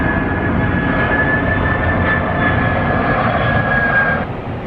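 An airplane flying overhead, a steady broad engine roar with a faint high whine, loud and constant before easing off at the very end, with no voices.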